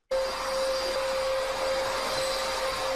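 A vacuum cleaner starts abruptly and runs at a steady, fairly loud drone with a constant whining tone throughout, indoors in a bedroom, with no voices.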